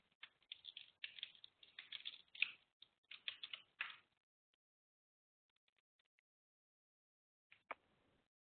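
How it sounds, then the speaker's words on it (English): Quick bursts of typing on a computer keyboard, bright clustered key clicks for about four seconds, then silence, then a final pair of keystrokes. "let me see if I can just type it in here"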